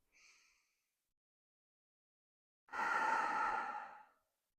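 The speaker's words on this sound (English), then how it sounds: "Breathing in and out here." Breathing during a Hatha yoga session, a faint short breath at the start, then silence, then a long, audible exhale like a sigh, close and soft.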